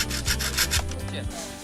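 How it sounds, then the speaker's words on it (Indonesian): A saw cutting through the base of a sugar palm (aren) fruit bunch during the harvest, making rhythmic rasping strokes at close range with a steady back-and-forth pulse, and no one speaking. "Gergaji bagian pangkal tandan dan buah aren berhasil dipanen"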